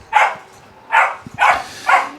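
A puppy barks four times in short, sharp bursts, two spaced apart and then two close together, near and clear with no talking over it.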